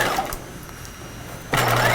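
Sewing machine understitching the seam of a cropped retro jacket with a faux fur section, a quiet hum for most of the stretch, then a steady close motor whir starting near the end, with no talk.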